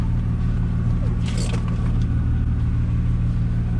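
BMW E46 car engine left running at idle, a steady low rumble close by, with a brief higher clatter around one and a half seconds and faint voices underneath.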